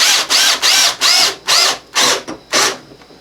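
Seven close bursts from a power drill sinking T20/T27 deck screws into wood while building a shave horse, each run whining up and stopping, loud and near with no talk.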